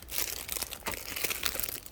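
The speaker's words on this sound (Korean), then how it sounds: "농장에서 나올 때는 꽃 상하지 말라고 이렇게 비닐을 씌워서 나와요" Plastic sleeve crinkling and rustling around a potted Christmas cactus cutting, close and continuous with dense crackly bursts and a few sharper crunches, no voices.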